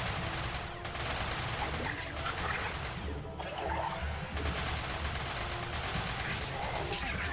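Continuous dense gunfire-like bursts and crashes from scouts attacking in a StarCraft Remastered Protoss campaign battle, loud and sustained throughout, with a voice talking over parts of it.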